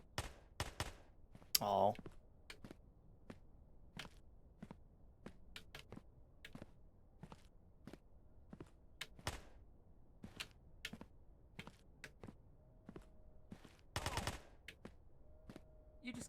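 Sharp, isolated gunshots in a video game, fired one at a time at irregular intervals, loud and close, with a brief exclamation from a voice near the start.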